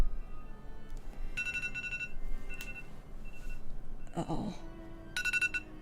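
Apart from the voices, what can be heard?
phone alarm ringing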